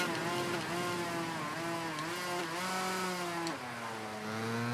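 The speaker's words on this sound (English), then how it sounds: "Got to use a bit of the engine brake in there to get a bike back towards the corner" Two-stroke motorcycle engine in the racing game Ride 3, whining steadily with rising and dipping pitch as the bike engine-brakes into a corner, loud and continuous.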